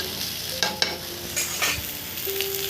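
Potatoes frying in oil in a pan for an egg curry, with a steady close sizzle and a few sharp stirring clicks and scrapes from a utensil, no voices.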